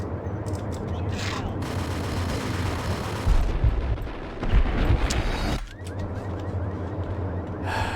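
Gunfire in the shooter game Max Payne, dense loud bursts of shots and heavy impacts over steady game noise, close and continuous for several seconds.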